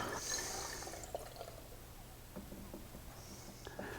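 Homemade wine trickles from a bucket tap into bottles, a soft, steady run of liquid with faint drips and small splashes, fairly quiet and close, with no talk.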